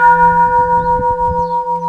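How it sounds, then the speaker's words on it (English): Gold temple bell at a shrine struck hard, ringing with steady sustained tones that hum and beat slowly as they decay, loud and close with nothing else heard. "Call this the gold bell."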